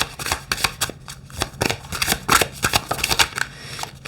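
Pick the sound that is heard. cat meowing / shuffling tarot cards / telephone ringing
shuffling tarot cards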